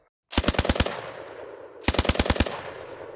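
An M1918 Browning Automatic Rifle fires two loud, close bursts of about five rapid shots each, with a second's gap and ringing echoes trailing after each burst.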